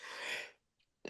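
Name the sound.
sneeze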